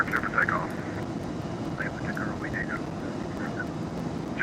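TBM900 turboprop engine in X-Plane 11 taking off from runway 9 at night at Fort Lauderdale, a steady broad roar with faint voices murmuring over it.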